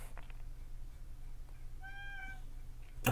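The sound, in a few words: pet cat meowing, whining for dinner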